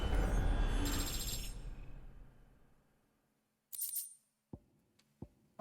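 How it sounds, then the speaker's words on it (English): Level-up sound effect in Final Fantasy 16: a bright shimmering chime that swells loudly and then fades out over a few seconds, followed by a couple of faint, brief interface blips. "Hey, level up."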